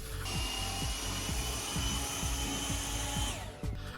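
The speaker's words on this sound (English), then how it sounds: "the next step is to sand the primer" Primer being sanded on a Street Fighter II arcade cabinet, a steady close machine whine with a continuous high hiss and repeated low rhythmic strokes, running almost the whole time before cutting off near the end.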